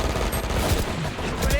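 Rapid gunfire from a Valorant tournament match, a dense, loud burst of shots filling the moment, with a voice talking faintly underneath.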